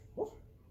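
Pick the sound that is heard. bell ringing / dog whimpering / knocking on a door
dog whimpering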